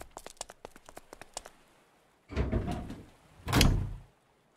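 Several light taps and clicks are followed by two heavier rumbling pushes of a door opening, sliding and thudding against its frame. The sounds are moderately close and there is no talk.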